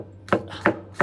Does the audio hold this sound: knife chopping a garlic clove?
yes